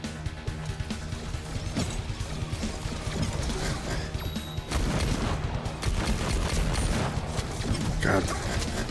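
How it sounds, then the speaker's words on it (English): Loud gunfire from a weapon in a first-person shooter video game, with a steady stream of sharp shots and mechanical clatter layered over busy game sound throughout. "That gun's got a good sound"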